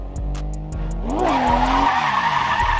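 A car drifts with its tires skidding and squealing loudly, the engine revving and rising in pitch through a long continuous screech, with short sharp tire chirps near the start of the slide.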